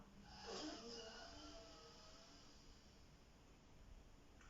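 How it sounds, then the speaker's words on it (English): A single slow breath drawn in through one nostril during alternate-nostril breathing practice, a soft airy rush that swells early then tapers into faint breathy hiss. "Inhale."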